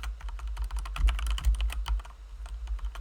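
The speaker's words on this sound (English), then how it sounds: "absolutely keep talking while I'm typing" Fingers type on a computer keyboard close to the microphone in quick, uneven bursts of clicks, over a low background hum, with no talking.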